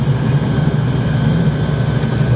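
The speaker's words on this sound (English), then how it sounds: "Airplane about to crash." Low-flying airplane over farmland, a continuous loud droning engine roar with a steady low hum that stays constant and fills the whole stretch, no voices.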